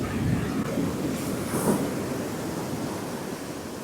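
Ocean surf breaking and rushing at a Pacific shore where a man wades while fly fishing for snook, a steady loud broadband wash with a swell of spray near the middle.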